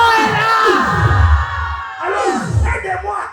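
A church congregation shouting loudly together, sweeping waves of yells and whoops rising and falling in two big bursts, with a voice calling out over the crowd.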